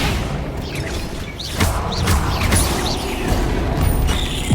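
Hogwarts Legacy's Flipendo knockback spell fires amid loud combat, with whooshing magical sweeps and booming impacts layered over a dense, rumbling battle background.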